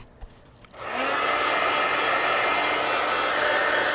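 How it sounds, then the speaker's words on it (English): After a couple of small clicks, a heat gun switches on and blows steadily to dry a coat of gesso in a coloring book, producing a loud, even, continuous roar that holds to the end. "now I'm going to take my heat gun and let's dry it"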